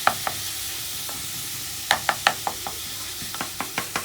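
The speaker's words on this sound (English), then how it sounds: "I'm going to break the mince down and get that browning." Mince browning in sunflower oil, a quiet, steady sizzle broken by a series of sharp scraping and stirring knocks, several in quick clusters.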